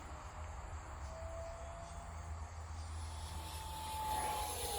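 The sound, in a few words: X-Fly Su-27 RC jet at full throttle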